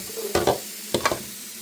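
Sausage and onions sizzle in a pan while a utensil stirs them, giving two short pairs of scraping stirs over a faint, steady frying hiss.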